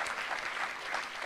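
A church congregation claps together in a steady, even wash of applause, held at moderate volume through the whole moment without a break.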